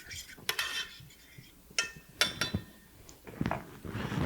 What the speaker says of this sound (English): So we're going to go ahead and give it a little stir there.